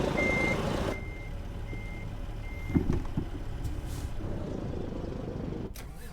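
A big rig turns around in a tight, snowy spot in American Truck Simulator, its reversing alarm beeping steadily over a low diesel engine rumble, with a brief thump midway and a hiss near the end.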